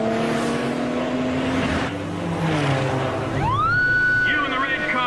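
A car speeds along in a pursuit, its engine droning steadily with a rising whine near the end, while a voice talks over it.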